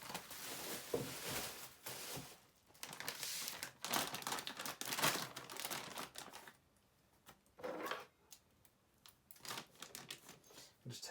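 Plastic casing and bubble wrap around a Luban No. 7 hand plane are torn open by hand, giving loud, irregular crinkling and ripping bursts with short pauses between them.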